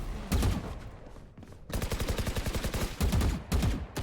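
Rapid gunfire in the tactical shooter Valorant, loud close bursts of regularly spaced shots separated by brief pauses, with no voices over the shooting.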